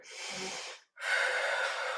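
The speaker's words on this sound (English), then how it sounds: "Settling in and breathing." Two slow, audible breaths during yoga practice in a warrior pose, a soft nasal inhale followed after a brief gap by a longer, breathy exhale, close and clear with no talking.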